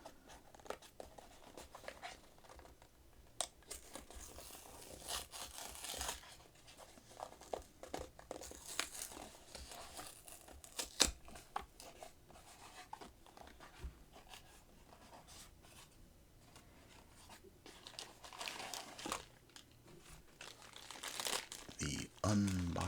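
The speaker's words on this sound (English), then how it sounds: "Pretty much have to tear these" Blind box packaging is torn open and crinkled up close, with repeated rips, rustles and plastic crackles of varying loudness. Soft speech breaks in now and then.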